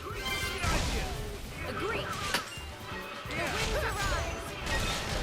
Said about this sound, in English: You got hit by my spinning wheel of a whip